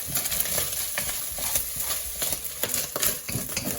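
Beef mince browning in a pan gives irregular sharp pops and crackles over a low, uneven sizzle, close by and without talking.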